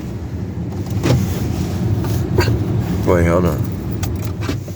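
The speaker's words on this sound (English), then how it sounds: "Turn the car off." A car engine running with a steady low rumble throughout, close and continuous, while a person speaks briefly over it.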